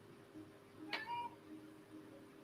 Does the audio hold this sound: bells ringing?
no